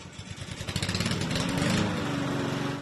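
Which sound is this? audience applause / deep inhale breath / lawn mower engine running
lawn mower engine running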